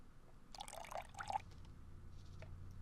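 A can of oil glugs down a sink in the video game Deponia, making a short burst of liquid pouring and gurgling that lasts about a second, then a faint drip, over a low steady background hum.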